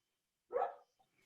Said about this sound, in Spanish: hago callar a mi perro si no se lo aguantan